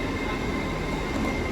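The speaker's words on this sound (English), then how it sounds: "hopefully now the Hull train's actually just come into platform 4" A Hull train pulling into platform 4 at Doncaster station, a loud, close, steady roar of rolling wheels and engine with a faint squeal, heard on its own without talk.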